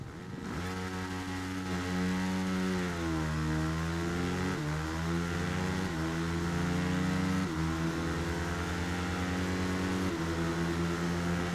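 At a race start in the video game Ride 3, motorcycle engines rev up and then climb through a string of gear shifts, with each sustained, buzzing note rising in pitch and then dropping again.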